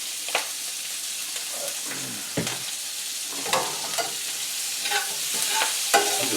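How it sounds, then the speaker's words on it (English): Kale leaves tossed and stirred in a pan with olive oil, steady sizzling with intermittent scraping and rustling strokes, close by with no talking. "I'm just tossing kale"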